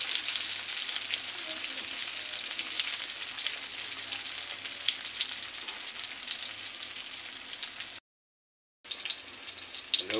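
Tortang talong, an eggplant omelette, sizzles steadily in a frying pan, a dense continuous crackle that holds close and even, with a short dropout near the end.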